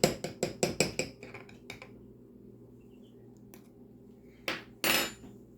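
Cream sloshes and knocks inside a container shaken by hand while making butter, about six quick rhythmic thumps at first, then scattered clunks and two louder shakes near the end.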